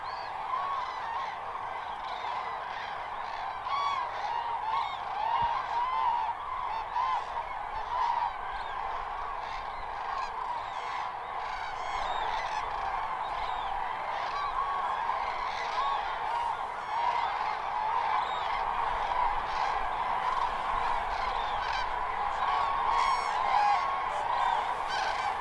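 Greylag geese honk steadily in a continuous chorus as they fly off to feed on maize fields, many calls overlapping at moderate distance with no pauses.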